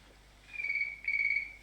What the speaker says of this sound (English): That's a phone.